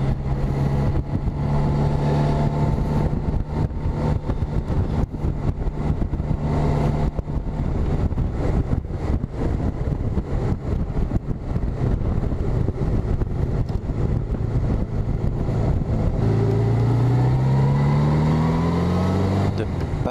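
Car driving along a narrow country dike road, the Puifse Dijk near Sommelsdijk in the Netherlands: a steady engine drone with tonal hum and wind buffeting throughout, and an engine note that climbs toward the end.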